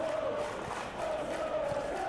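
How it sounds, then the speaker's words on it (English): Stadium crowd in a football video game, a dense, continuous roar of cheering and applause that holds steady and fairly loud throughout with no talk over it. "Crowd appreciates good football all round there"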